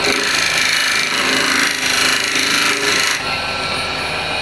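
A steel hand scraper pushed hard across a metal surface, giving a continuous loud, rough rasping scrape with slight rhythmic pulses that eases near the end, heard up close.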